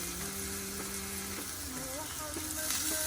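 Minced meat fries in a pan for lasagne, after golden-brown onions, with a steady loud sizzle and crackle and a faint tonal hum running underneath.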